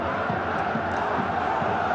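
Stadium crowd at a Shanghai SIPG versus Urawa Reds Asian Champions League football match, a steady dense roar of many voices with rhythmic chanting pulses running throughout, loud and continuous.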